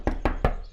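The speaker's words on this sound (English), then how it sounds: "Just as I finished, someone started knocking on the door." Three sharp knocks on a wooden door in the video game Everlasting Summer, evenly spaced and close, each a short dull thud standing alone.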